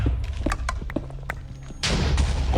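Game explosions blowing apart stone pillars in a modded Minecraft world, a series of short dull thumps and bursts followed by a louder, sustained rumbling blast near the end.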